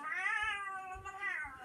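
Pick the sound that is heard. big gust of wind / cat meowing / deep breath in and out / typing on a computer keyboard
cat meowing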